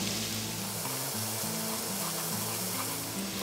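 Two eggs sizzle steadily as they are scrambled in a hot pan for Bangladeshi-style Chinese Hakka noodles, a continuous close frying hiss with a low hum underneath.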